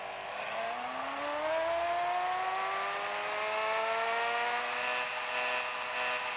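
A car engine in the mobile driving game Car Parking 2 revs up and accelerates hard, its pitch climbing steadily through a long, loud, unbroken pull with no talk.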